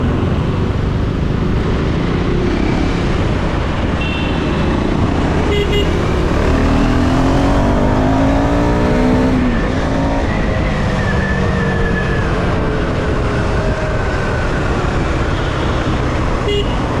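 A Husqvarna Svartpilen 410 motorcycle on a road ride, its engine droning loudly and steadily throughout with rising and falling pitch as it accelerates, under heavy wind noise and passing traffic.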